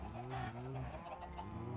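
Chickens clucking in the video game Minecraft, a short run of close, repeated clucks over a steady background hum, with a voice talking briefly.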